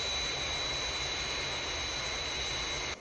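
The Fireflash jet airliner approaches the runway on landing, its engines producing a steady, loud whining roar with a high tonal whine that holds constant before cutting down abruptly near the end.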